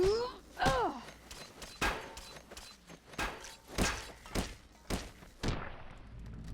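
Rocks thrown in Fallout New Vegas land as a run of dull thuds and thunks, about eight impacts spaced roughly half a second to a second apart, fairly loud and with no talking.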